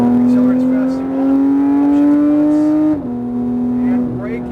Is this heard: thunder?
no